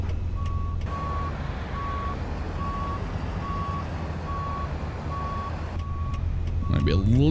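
In American Truck Simulator, a truck's reversing alarm beeps at a steady, evenly spaced rhythm over a low idling engine hum, and a voice talks briefly near the end.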